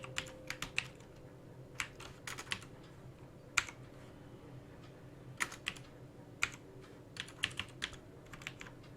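Typing on a computer keyboard while laying out an ID card design: quiet, irregular key clicks in short clusters over a low hum, with no talking.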